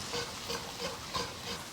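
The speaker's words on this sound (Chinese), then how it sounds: "锅留底油，下入一点豆瓣儿，也可以用泡椒末，再下入姜葱蒜" In a wok, a spatula stirs doubanjiang, ginger, scallion and garlic through hot oil, giving a steady sizzle broken by regular scraping strokes about three times a second, close and moderately loud.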